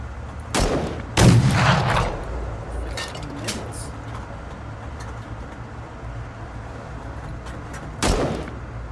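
Heavy weapon fire in the video game Fallout, with a few loud, booming bursts near the start and another near the end, separated by a low rumbling background.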